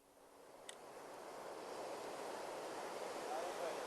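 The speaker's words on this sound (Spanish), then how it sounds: "Escuchad el sonido de este océano, esas olas." Ocean waves rolling onto a shore as a steady, broad wash of surf that builds gradually and stays full and continuous, with a brief faint click early on.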